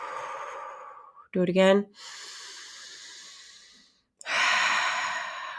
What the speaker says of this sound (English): let's take a nice deep inhale in. Exhale out smoke as if you're releasing smoke from the fire